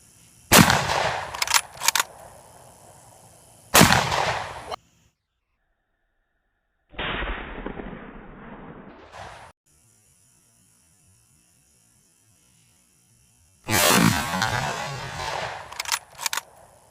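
Mosin Nagant M91/59 rifle fired outdoors at dusk, a few loud sharp reports in separate bursts with long quiet gaps between them over a steady electrical hum.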